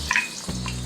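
Chopped onions are dropped into hot oil in a wok and sizzle in a brief, close burst that settles into a steady frying hiss.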